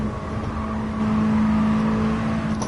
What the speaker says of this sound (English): I'm gear shifting as soon as I hear the rev peak.